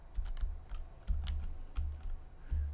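Computer keyboard keys clatter in quick bursts of close, crisp clicks with brief pauses between runs, heard during a Minecraft session with no talking.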